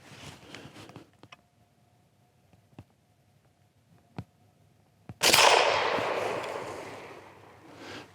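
A rifle chambered for an unusual cartridge is fired once with a sudden sharp blast and a long decaying echo, after a few quiet clicks of loading.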